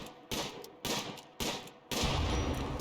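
Colonists taking shots in RimWorld, four distinct bursts of gunfire in a steady rhythm roughly every half second, the last one longer and heavier, close and moderately loud with no talk.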